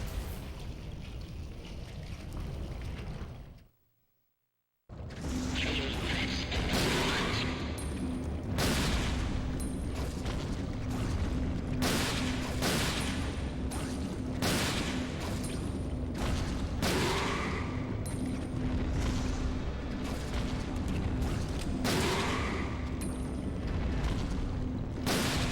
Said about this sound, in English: Keep shooting the head that pops out.